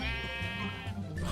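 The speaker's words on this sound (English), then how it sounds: "Sheep in this area are really, really rude." Sheep bleating in the video game Minecraft (SevTech modpack), one drawn-out wavering bleat up close, loud and alone.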